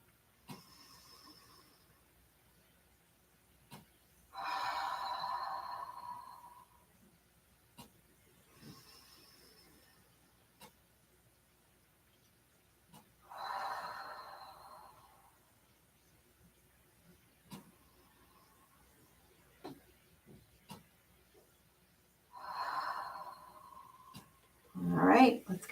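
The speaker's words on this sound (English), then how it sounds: "let's just take 3 deep breaths at your own pace" Three slow, deep breaths during a yoga session, each a soft, airy inhale and exhale with quiet pauses between, ending with a louder close rustle.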